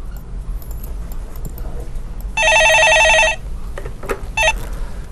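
A telephone bell rings with an incoming call, one sustained electronic trill burst followed by a shorter second ring, heard clearly over quiet studio background.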